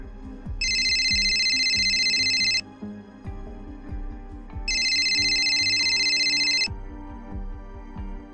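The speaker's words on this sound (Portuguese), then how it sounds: "O som do celular me arrancou de um sono pesado" A cell phone rings with a bright electronic ringtone in two long bursts, each about two seconds, separated by a pause. Soft low thumps and room noise sit underneath and there is no speech.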